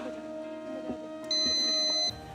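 A quiz show buzzer gives a single sustained electronic tone lasting under a second, loud and close, over a low background hum.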